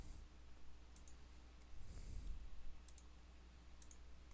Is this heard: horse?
no